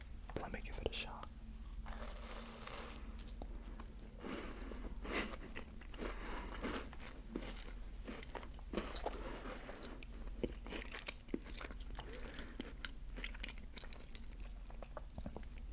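Close, quiet bites and chewing of a chocolate peanut butter Crumbl cookie, with soft crunches and moist mastication repeating steadily, and a soft-spoken voice murmuring now and then.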